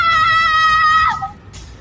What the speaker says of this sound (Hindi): एक दर्दनाक चीख